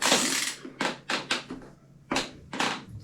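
Bolts on a Shimano Deore bicycle crankset are tightened with a tool, giving a series of close, sharp scraping and ratcheting clicks in irregular bursts with brief pauses between them.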